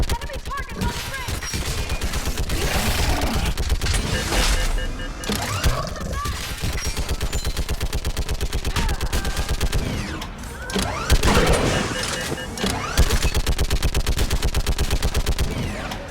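Rapid, loud bursts of mounted-gun fire in Mass Effect 3, dense automatic shots rattling almost continuously, mixed with booms and battle noise, with shouted in-game voices over the combat.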